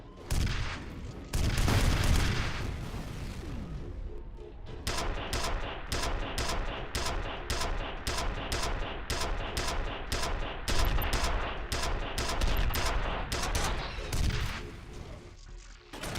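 Rapid repeated gunshots from the shooter game F.E.A.R., a steady volley of loud, sharp reports firing in quick succession after a few heavier bursts, continuing nearly without pause.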